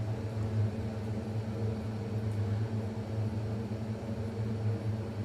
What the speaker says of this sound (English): Gas turned on.